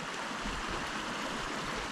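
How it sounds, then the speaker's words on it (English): Fresh running water of a stream beside a wild camp in remote Northumberland, heard as a steady, even rushing and babbling that stays at a moderate, constant level with no voices. "you've got the bonus here of having fresh running water right next to your camp"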